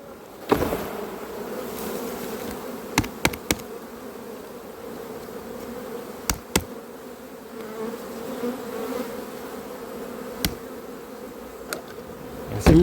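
Honeybees buzzing steadily around an opened hive during beekeeping work, a close, continuous drone broken by a few sharp clicks and knocks.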